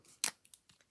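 Scissors snipping paper butterflies at close range: one sharp, crisp cut followed by a few softer, quicker snips, set against near silence.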